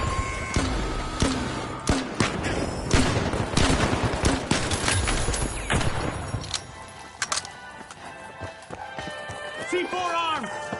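Chaotic game combat in The Finals with rapid bursts of gunfire, a rocket launch and explosions crowding together under loud, excited commentary, the firing thinning out after a few seconds into scattered effects and tones.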